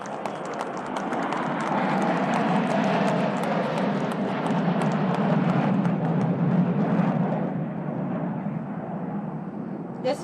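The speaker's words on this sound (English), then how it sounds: "here comes, ladies and gentlemen, the Dragon from the East. I present to you the" J-10C fighter jets roar past during an induction ceremony flypast, a loud broad rushing jet noise that swells and slowly fades over about ten seconds.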